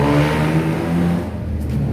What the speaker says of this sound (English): That engine that you can hear, and I'm a petrol head, so we're tuned into those exhausts. That's a tuk-tuk